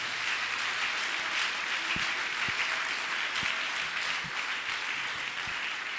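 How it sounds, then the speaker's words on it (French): Church congregation applauding and cheering at a French-language sermon, a steady wash of clapping with scattered sharp claps throughout, loud and continuous. "Est-ce qu'on peut acclamer le Seigneur?"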